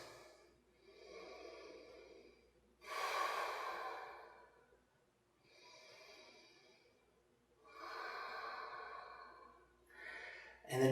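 Slow, audible breaths taken while standing in yoga mountain pose, long airy inhales and exhales alternating at an even, calm pace, close and quiet with no talking.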